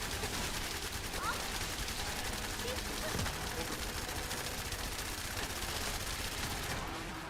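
Weapon fire in the video game The First Descendant: a steady, rapid stream of gunshots that holds even and fairly faint throughout, with a voice talking over it.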